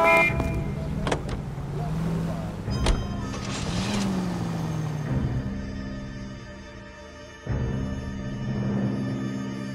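A car is driven in the video game L.A. Noire, producing a steady engine drone with shifting pitch and a few thumps. It plays at moderate level throughout and swells near the end.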